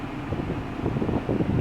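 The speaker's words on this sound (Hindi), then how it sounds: "ब्लोअर का आवाज़ सुनाता हूँ।" Steady rushing airflow from the AC blower fan inside a Toyota Innova, a continuous close whoosh with a slightly fluttering low rumble and no voices.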